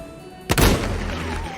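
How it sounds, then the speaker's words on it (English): A single sharp gunshot cracks out loud and close in the Christmas zombie musical, its boom trailing off into a lingering rumble. "as we hear a gunshot"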